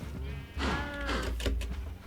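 Cows in Minecraft lowing in a short burst of mooing, a drawn-out call with a wavering tone rising over steady game background, fairly close and clear, with a second shorter call near the end.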